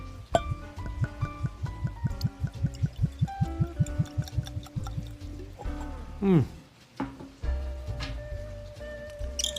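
Keeper's Heart Irish bourbon is poured into a glass after a cork is pulled. Soft rhythmic glugs and drips give way to a brief rising gurgle as the glass fills, close by, with talking alongside.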